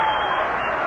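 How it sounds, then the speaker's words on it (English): Baseball crowd at a Reds–Cubs game cheering and applauding, a dense, sustained wash of clapping and roar that stays steady and loud for a brief moment. "Boy, this crowd is really coming alive."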